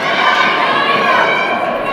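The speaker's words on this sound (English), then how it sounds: "The crowd's starting to lift a bit here too for South Africa" An indoor crowd cheers for South Africa at the Indoor Netball World Cup 2014 ladies' open gold final against Australia, a loud, sustained roar of many voices with shouting mixed in.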